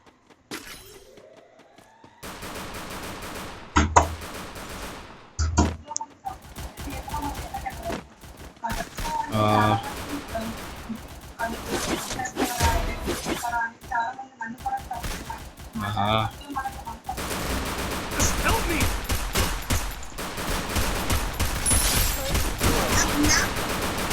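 Pistol shots from a USP in Counter-Strike, sharp cracks scattered through a busy, noisy in-game mix of impacts and background commotion, with occasional talk over the action.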